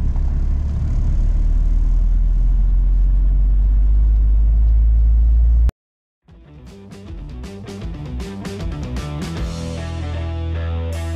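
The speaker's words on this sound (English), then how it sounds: "So now we're gonna drive. We're gonna drive to the first 2 stacks, get them loaded up, and get ready to haul them." Truck driving out to load hay stacks: steady loud engine rumble for about five seconds, a sudden cut to near silence, then a busier mix of clunks and mechanical sounds with a lower engine drone underneath.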